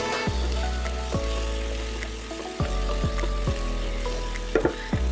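Chopped tomatoes and onions fry in a pan with a steady sizzle, broken by repeated scrapes and stirs of a spatula, with no talking.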